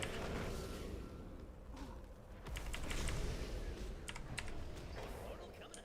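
Keys on a computer keyboard click in quick uneven bursts during a World of Warcraft session, close and fairly soft over a steady room hum, with faint voices underneath.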